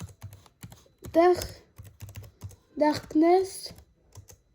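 Someone types a password on a computer keyboard, a close run of crisp, evenly spaced key clicks punctuated by two bursts of spoken words.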